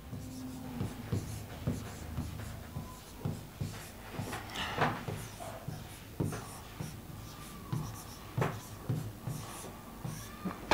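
Chalk or pen taps and scratches in short rhythmic strokes as someone writes by hand during a Hindi grammar lesson. The sound is faint and close, with little talk.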